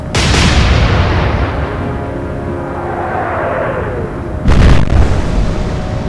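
Battleship guns fire in an Atlantic Fleet naval battle: a loud boom opens, then a long rolling rumble with a whistling tone, and a second heavy blast lands near the end, with no voices.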